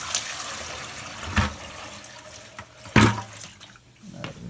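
Water drained from a boiler is poured from a bucket into a drain, splashing in a couple of sharp gushes between quieter trickling and sloshing, without speech.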